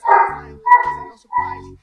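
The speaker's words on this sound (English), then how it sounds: "Oh my gosh, my dog is cutting up." A pet dog barks three times indoors, each bark short, loud and close, with brief pauses between them.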